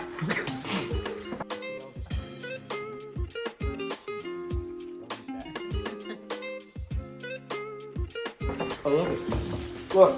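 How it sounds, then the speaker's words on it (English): Steady greasy sizzling from a quesadilla in a hot pan with clinks and taps, while a person talks briefly over it. "The sizzling sound is pretty great right now."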